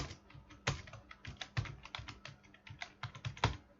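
Fingers tapping keys on a computer keyboard, an irregular run of close, crisp clicks with a few harder strokes scattered among them, heard alone with no talking.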